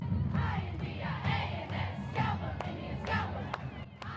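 A crowd at a Disney Magic Kingdom parade shouts loud battle-cry screams and whoops, dense overlapping yells with a few sharp claps or bangs near the end.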